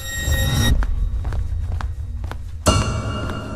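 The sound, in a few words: footsteps of someone walking outside a hotel room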